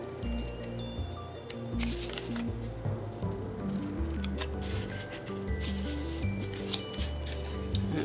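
Graphic45 paper being cut for shaker tags, a steady rasping and rubbing of blades through paper, close, over a background of soft music.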